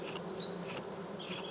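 Honeybees buzz around the hive with a continuous soft drone, and individual bees pass close by with brief rising and falling hums.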